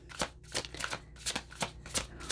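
Akashic oracle cards being shuffled by hand in quick riffling bursts, about seven crisp papery flicks in a steady rhythm, close and clear with no talking.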